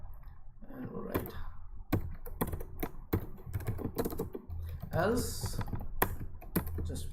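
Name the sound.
typing code on a computer keyboard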